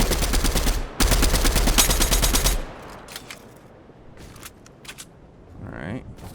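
A video game produces loud rapid automatic gunfire in two dense bursts, followed by quieter scattered shots and ambient noise.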